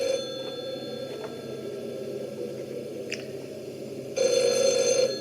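A telephone in an old-style radio drama set during a storm rings out near the end, a bright, loud electric bell breaking through a steady low background hum, no voices.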